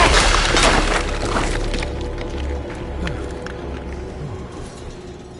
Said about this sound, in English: My weapon broke!